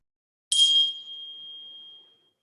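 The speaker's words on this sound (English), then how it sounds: "We listen again as the chime is struck, listening to the very last moment to when it falls into silence." A chime struck once in a monastery nave, a bright metallic strike that rings on as a single clear tone and fades smoothly into silence over about a second and a half.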